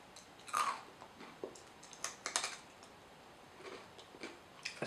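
Crisp crunching bites of Chocapic chocolate cereal flakes, a loud first snap followed by scattered, irregular crackles and small chewing clicks, close up and with no talking.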